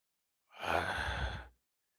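A single drawn-out yawn lasts about a second, breathy and close, in an otherwise silent moment.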